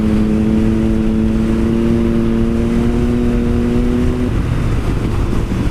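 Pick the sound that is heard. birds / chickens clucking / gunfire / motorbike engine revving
motorbike engine revving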